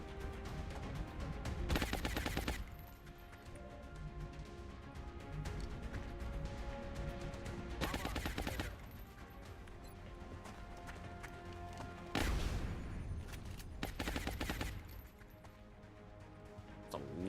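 Suppressing fire in XCOM Long War: several loud bursts of automatic gunfire, each a second or so long, spaced irregularly over quieter game music and ambience.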